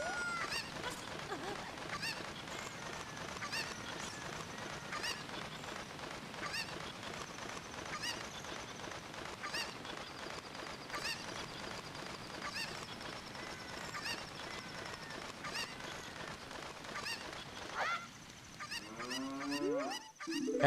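Chicken clucks from a video game, a busy stream of squawking and honking calls repeating throughout, with a brief voice near the end.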